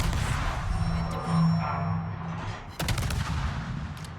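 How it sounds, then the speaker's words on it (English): Rapid bursts of HE shell fire from the Z-52 destroyer in World of Warships, a rolling barrage of booming shots followed by a sharper, louder cluster of impacts near the end, with no talking. "watch the HE shells here"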